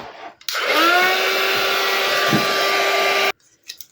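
A hair dryer blows on a freshly glued vintage photo slide, a steady loud whooshing hum that starts abruptly, runs for about three seconds and cuts off sharply.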